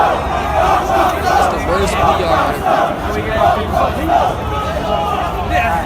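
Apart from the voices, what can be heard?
concert crowd rioting and yelling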